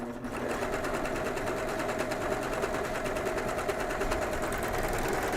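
A serger overlock machine running steadily while sewing a flatlock stitch, a fast, even whirring and needle chatter held at constant loudness, close by with no pauses.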